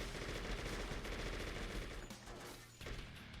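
Rapid, dense gunfire crackles continuously as Goth enemies are shot in the video game True Crime: New York City, loud and sustained with little pause.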